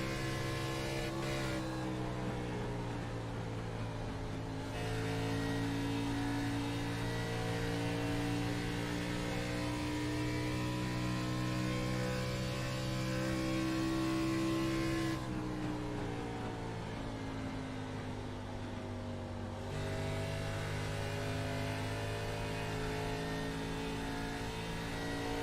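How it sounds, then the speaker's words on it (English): Onboard a race car lapping Kentucky Motor Speedway in an NSRA series race, the engine drones loud and steady throughout, its pitch dipping and rising twice as the car slows through the turns and pulls back onto the straights. "We're going to ride on board with Nate Maurer and see what a lap is like here at Kentucky Motor Speedway"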